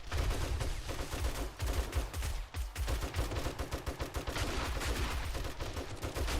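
Dense gunfire rattles through a 7 Days to Die firefight, rapid overlapping automatic bursts and shots from several shooters at once, loud and nearly continuous with only a brief pause.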